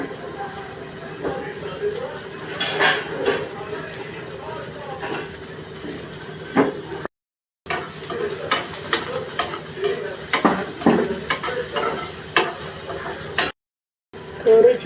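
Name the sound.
tomatoes and green chillies being sautéed in a pan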